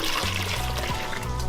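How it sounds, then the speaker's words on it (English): Water from a pail is poured into a toilet bowl to flush it. The splashing, trickling pour runs steadily, close and fairly quiet, with a lower gurgle shifting underneath and no talking. "flush it into the toilet"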